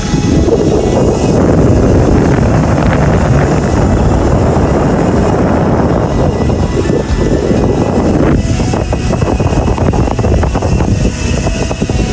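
Wind rushing over the microphone outdoors beside a road leading toward a forest, a loud continuous low buffeting roar that eases briefly and then swells again, with no voices.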